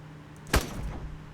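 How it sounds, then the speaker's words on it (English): A zombie strikes a door in The Dead Linger: one loud, close wooden thud with a brief rattling decay, over a low steady hum. "It's definitely hitting a door."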